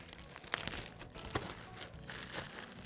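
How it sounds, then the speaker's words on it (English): Plastic packaging crinkles and tears as a new Shimano Nexus roller brake for a Nishiki 722 cross hybrid bike grabs and rips the bag off, with close, sharp rustling bursts and a tearing crunch. "oh man, it grabs to the plastic bag, rips it off like nothing"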